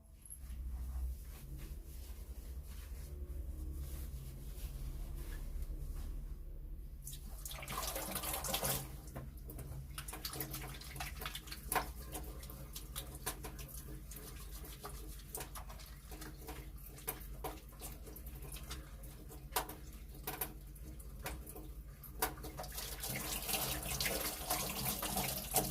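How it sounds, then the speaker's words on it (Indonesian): Tap water runs steadily into a sink during handwashing, a continuous splashing hiss that swells louder partway through and carries on, with faint birdsong somewhere in the background. "langkah selanjutnya adalah kita cuci tangan sebelum menyiapkan alat dan bahan"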